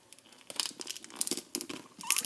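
Heavy duty tape being torn off a roll and pressed down onto a folding chair cover, a run of close, crinkly rips and crackles with short pauses between them.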